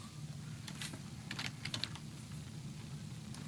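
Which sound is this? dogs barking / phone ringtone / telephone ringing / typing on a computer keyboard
typing on a computer keyboard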